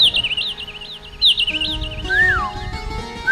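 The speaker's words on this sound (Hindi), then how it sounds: "पक्षियों का गुंजार हो रहा था।" Several birds chirp and warble near a mountain lake, high looping calls repeating close by with a steady insect-like buzz beneath, continuing alone without voices.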